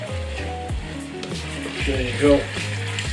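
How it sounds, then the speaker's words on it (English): Chicken and rice for tahchin being stirred in a little oil in a pan, with a steady sizzle and scraping stir strokes; a voice speaks briefly over the cooking. "Mix it up again, make sure everywhere gets oily."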